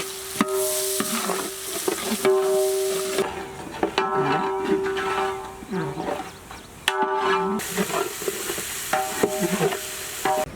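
Chopped onions and raw whole spices frying in oil left over from roasting chicken, with steady loud sizzling and repeated scraping stirs across the pan over about ten seconds.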